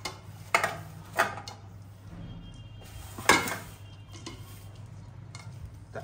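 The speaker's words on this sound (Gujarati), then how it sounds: "બસ હવે આ લોટ છે ને બધાને મિક્સ કરી લેવાનું છે હવે." Flour being stirred by hand in a bowl with green garlic, ginger and coriander: a few soft scraping, clinking strokes of a utensil against the bowl over a low steady background hum, with no talking.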